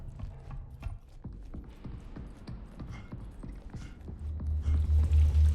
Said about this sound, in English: I swear I keep hearing footsteps.